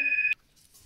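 A single steady electronic telephone beep sounds close and clear for about a third of a second, then cuts off into near silence.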